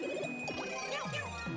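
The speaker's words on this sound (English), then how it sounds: "grab the Super Bell, and turn into Cat Mario." Picking up the Super Bell power-up in Super Mario Maker 2 brings a short bright tinkling jingle with quick rising and falling chime notes, clear and alone over the game's background music.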